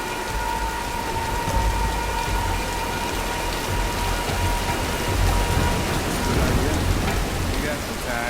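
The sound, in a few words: rain storm in a film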